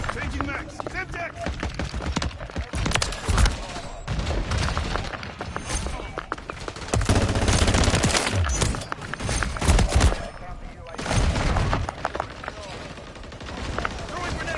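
Heavy gunfire and thumping blasts fill a Call of Duty: Modern Warfare III firefight, with near-continuous rapid shots and a louder stretch of booms in the middle, while a voice occasionally talks over it.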